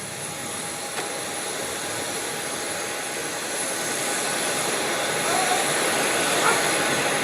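Steady broadband jet aircraft engine roar at an Indonesian airport as President Prabowo Subianto descends the plane's stairs, continuous and fairly loud with faint voices in the background.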